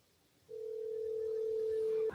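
A single steady electronic telephone tone sounds clearly for about a second and a half on a childcare center's phone line, starting after a quiet moment and cutting off abruptly.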